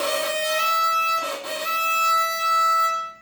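Violin E string bowed with too much right-hand pressure, giving a steady, harsh, scratchy sustained tone with a brief rough break midway, heard alone and close for about three seconds.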